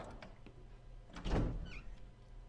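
A door opens in a video game, one soft broadband swell peaking midway through the clip over a steady low hum, with a faint tonal blip just after; no voices.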